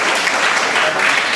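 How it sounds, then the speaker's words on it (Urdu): Crowd claps warmly for a young girl after her speech at an inter-school speech competition in Karachi, a brief, loud, even burst of applause with no talking. "ننھی سی بچی کے لیے دوبارہ تالیاں ہونی چاہیے"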